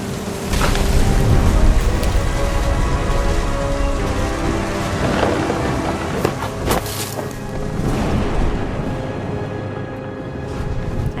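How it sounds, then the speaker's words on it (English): Steady rain pours through a thunderstorm in What Remains of Edith Finch, a dense, loud wash with low rumbling rolls of thunder beneath it, continuous for the whole stretch with no voices. "The thunder sounded much too close and full of angry power"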